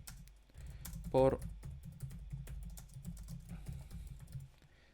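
Keys clatter on a computer keyboard in steady bursts, close and moderately loud, while someone speaks briefly over the typing.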